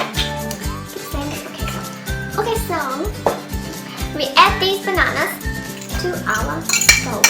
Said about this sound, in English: we need to mash these bananas